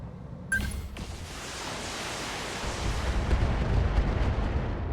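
Heavy weapon fire from battling mechs in the video game BattleTech: a sharp blast opens, then a dense roaring rumble of explosions and impacts builds steadily and stays loud, with no talking.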